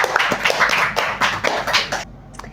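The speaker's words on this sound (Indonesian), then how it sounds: "Kasih aplaus dulu untuk semua bintang tamu kita hari ini" Applause from a podcast audience welcoming guest speakers, a dense crowd of hand claps running steadily for about two seconds before stopping abruptly, with a few scattered claps trailing off.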